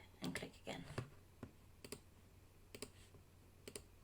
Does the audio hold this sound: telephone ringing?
no